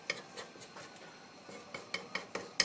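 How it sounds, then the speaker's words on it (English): Metal spoon scraping and tapping against the wall of a pan while an omelette's eggs cook, a series of light, irregular clinks and scrapes spaced about half a second apart, close by and fairly quiet, with no talking. "we have to make sure that we are taking off a little bit the eggs from"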